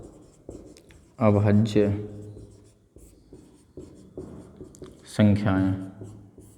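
Short scratchy strokes of chalk or marker on a classroom board as Hindi words are written during a maths lesson on co-prime numbers, soft and intermittent around a teacher's talking.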